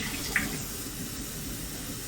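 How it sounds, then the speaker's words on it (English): Warm water runs steadily from a kitchen tap while eggs Benedict is being prepared, a continuous broadband hiss of flow with a single brief clink near the start. "And let's do warm water."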